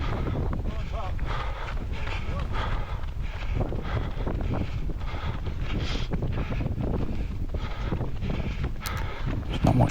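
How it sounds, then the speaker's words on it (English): Wind gusting across an open, cold parkrun course at Frank's Farm, a constant roaring buffet against the microphone that runs through the whole stretch, with faint footfalls and movement beneath. "even though the wind's blowing, it's not actually affecting too bad"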